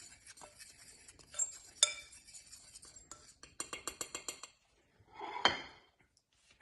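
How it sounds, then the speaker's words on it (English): A spoon stirring spilled onion powder and seasoning in a dish, with irregular clinks and a run of quick rhythmic taps against the dish, close and fairly soft, with quiet gaps between. "And I take that, I like to mix it up really nice."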